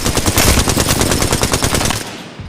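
Rapid automatic gunfire in Apex Legends, a dense, loud stream of close shots that runs steadily for about two seconds before cutting off.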